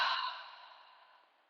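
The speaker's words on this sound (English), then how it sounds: "Exhale, cleansing breath." One soft, breathy exhale during a yoga session, close and gentle, fading out gradually over about a second and a half with no talking.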